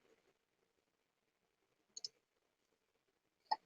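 Two sharp mouse clicks on a refresh button, the first a quick double tap near the middle and the second a single crisp click near the end, heard close and alone against near silence.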